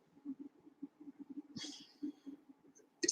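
A pet cat called Pee meows several times, close and fairly soft, in a short run of chirpy calls. Near the end it gives one brighter, sharper cry.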